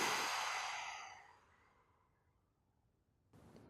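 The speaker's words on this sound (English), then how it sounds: "Powerfully exhale." One strong exhale in a breathing exercise, a loud breathy rush that fades over about a second and a half, then near silence and a brief soft noise at the end.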